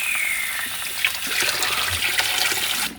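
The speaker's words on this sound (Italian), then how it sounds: "quindi andiamo a raffreddarle. Vai, così, acqua fredda" Cold tap water gushes steadily into a pot of just-boiled eggs to cool them, a continuous close splashing rush with no talk.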